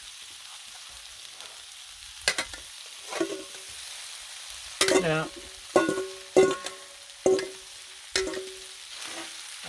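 Shrimp fried rice frying on a Blackstone griddle: a steady low sizzle broken by repeated sharp metallic scraping and tapping of spatulas every second or so, with a brief spoken word at the start.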